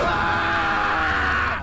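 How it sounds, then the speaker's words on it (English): A man's long, loud, strained scream in an animated scene, sustained and harsh before trailing off at the end. "Then he screamed and slashed the locker."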